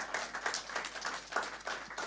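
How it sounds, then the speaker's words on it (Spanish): A church congregation claps together in quick, rhythmic bursts, a steady patter of many hands at moderate distance with no voices on top. "Si usted va a aplaudir, aplauda duro, porque no son para mí esos aplausos"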